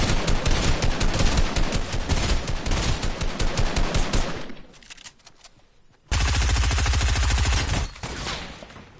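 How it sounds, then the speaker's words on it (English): Loud, rapid automatic gunfire in the video game Fortnite, dense continuous bursts that thin out briefly and then resume at full intensity. "somebody's trying to shoot you"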